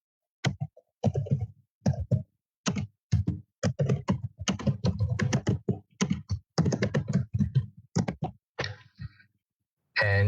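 Code being typed on a computer keyboard in Google Colab: clear, close clusters of key clicks in uneven bursts separated by short pauses, with no other sound around them.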